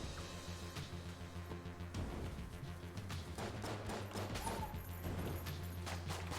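Rapid volleys of Shell Gun fire in Enter the Gungeon, a run of sharp blasts and crackling impacts over game music, fairly quiet and continuous with dense bursts toward the end.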